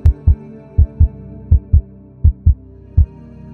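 A heartbeat sound effect thumps in a horror story, heavy low double beats repeating in a steady lub-dub rhythm, loud and close with nothing else heard.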